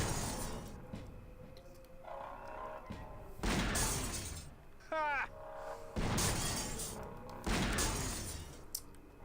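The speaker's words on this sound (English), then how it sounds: "don't you feel like it would stop breaking glass at some point?" Glass windows shatter repeatedly under gunfire in the Grim Fandango Remastered video game, several loud bursts of breaking glass spaced a second or two apart, with a brief rising squeal between them.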